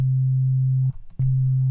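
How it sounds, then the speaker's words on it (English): A plain sine wave C note from an Ableton Operator synth with all other settings off sustains as a pure, steady tone. It cuts out for about a third of a second, with some faint clicks, then resumes. "we just have an operator here set to a sine wave, plain sine wave, and all the other things turned off"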